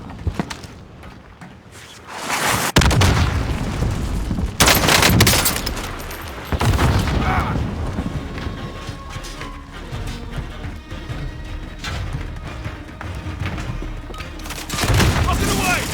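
A rocket launch with loud booming explosions and gunfire in the shooter game Warzone: several heavy blasts a few seconds apart over a steady din of battle noise, with in-game voices heard now and then.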